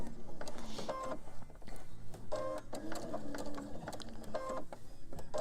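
A sewing machine stitching around a small cloth doll hand, running in short whirring, rattling bursts with brief pauses between them, close by and fairly quiet.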